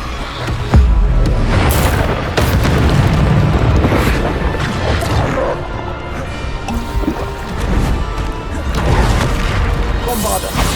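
Bombarda explosion spell in Hogwarts Legacy on PS5, with repeated heavy booms and crashing bursts over a dense bed of game combat noise and a watery, gurgling ambience.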